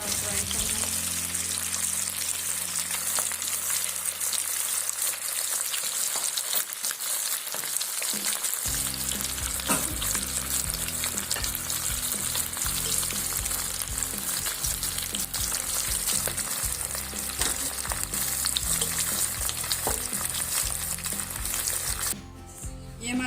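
Fish fillets coated in masala fry in hot oil in a pan, a steady loud sizzle running throughout with occasional stirring noises, faint talk in the background.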